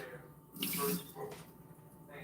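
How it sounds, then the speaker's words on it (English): Water gushes into a kitchen sink as it is drained off washed greens, a short loud splash and pour between quieter running water, with someone talking nearby. "I'll drain these off."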